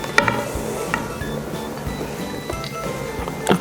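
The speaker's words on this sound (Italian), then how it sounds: "adesso aggiungiamo gli albumi e mescoliamo molto delicatamente dall'alto verso il basso per non smontare l'albume" Spatula gently folding whipped egg whites into pistachio cream for a pistachio tiramisù, a soft close scraping and squelching in slow strokes with a few light clinks against the bowl.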